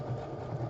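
A sewing machine hums in a low, steady whir as it stitches along the edge of a boho purse, close and continuous for a brief moment.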